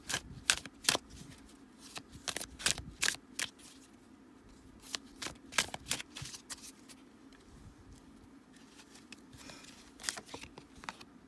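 Tarot cards are shuffled and riffled in quick bursts of crisp slapping and fluttering clicks, with pauses between flurries, close and fairly quiet, no voices.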